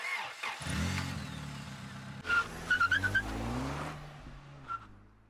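A car in the video game PAWW: Feline Fatale starts up and speeds away. The engine rumbles, a short burst of tire squeals follows, and the revving fades into the distance.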